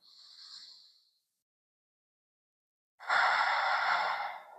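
Deep breathing during a yoga twist: a soft, short breath gives way to a second of silence, then a longer, louder, close-up breath sweeps in with a breathy rush.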